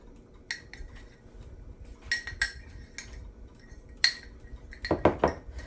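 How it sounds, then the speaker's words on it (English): Utensil clinking and scraping against a cup while mixing keto coffee-cup cake batter, a run of sharp metallic taps and clinks with short pauses, close and clear, with no voices. "And then get that all mixed up."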